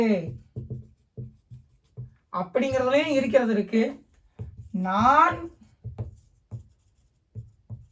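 A pen writing on paper in a spoken English lesson, with short scratchy strokes in an irregular rhythm, close and fairly faint, while someone speaks over part of it.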